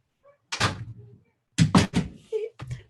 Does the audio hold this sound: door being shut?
yes